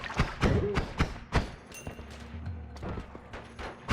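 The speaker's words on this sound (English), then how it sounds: "Machine guns happening" Rapid bursts of gunfire and thudding impacts from machine guns in the roguelike game Noita, a string of loud sharp cracks and thumps with a short lull in the middle.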